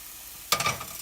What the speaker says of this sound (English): I'm going to pour that over our bean thread noodles